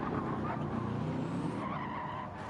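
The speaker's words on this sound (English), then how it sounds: "Yeah, just oversteering." A BMW race car at the Nürburgring 24 Hour oversteers through a slow section, its tires skidding and squealing over a loud, continuous engine roar.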